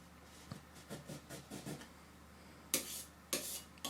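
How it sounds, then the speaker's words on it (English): A landscape knife scrapes oil paint across a canvas, pressed hard: several soft rasping strokes, then two louder, sharper scrapes, close and quiet with no talking. "I'm using a knife, landscape knife, pressing quite hard and then scraping off the excess paint"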